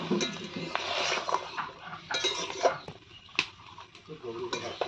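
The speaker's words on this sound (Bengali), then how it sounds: "এখন একটু নাড়াচাড়া করব।" A spoon stirs salted food in a cooking pot, giving scraping and clinking knocks against the metal in irregular bursts close up, with faint sizzling and a voice talking intermittently in the background.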